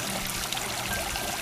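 Rippling water of a lit park fountain at night in Monterosso, a steady close trickling and pouring wash that fills the whole short stretch without pause.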